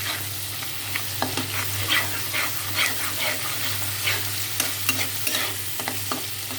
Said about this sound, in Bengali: আদা রসুন দিলাম।